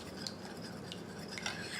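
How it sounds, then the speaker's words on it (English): Spoon scraping and stirring smoky tempeh with paprika in a pan, a soft continuous close-up clatter over a faint sizzle for about two seconds. "I'm going to give that a quick stir with a spoon"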